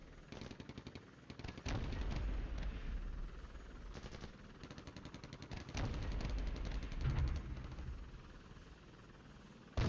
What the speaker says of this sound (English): Smoke is being fired around the battlefield.